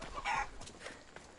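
A chicken clucks in Assassin's Creed Odyssey, a few close, throaty clucks in quick succession, fairly quiet and heard alone.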